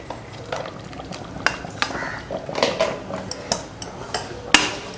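Jaggery syrup for sweet pongal poured through a strainer to catch cardamom, with repeated metal clinks of a ladle and strainer against a pot, sharp scrapes and taps spaced irregularly over soft liquid movement, close and moderately loud.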